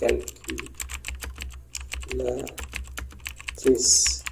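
A computer keyboard clatters with quick, close keystrokes as a filename is typed, the clicks coming in a fast uneven run while a voice talks over them in short bursts.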